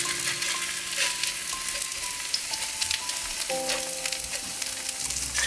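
Kimchi pancake batter sizzles steadily in an oiled pan over medium heat, a close, even frying crackle that holds throughout with no talk.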